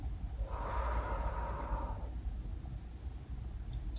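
A slow, deep breath during a full-body yoga stretch, with a long airy inhale swelling over about a second and a half and then fading into soft, close breathing noise.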